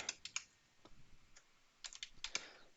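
Close, quiet keystrokes on a computer keyboard, irregular bursts of a few clicks each separated by short pauses, with no one talking.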